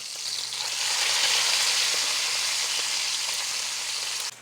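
Bacon frying in a pan gives a steady, dense hissing sizzle, fairly loud and close, holding evenly for a few seconds before cutting off, with no talk.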